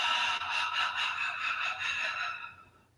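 A long, open-mouthed exhale during a yoga breathing exercise, one steady breathy rush lasting about two and a half seconds before fading out, close and clear with no talking.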